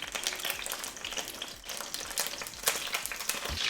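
Butter and thyme sizzle hard in a hot frying pan alongside stuffed chicken thighs, a dense crackling spatter with scraping stir sounds and no voices.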